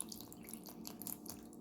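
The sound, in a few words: distilled water poured into honey for mead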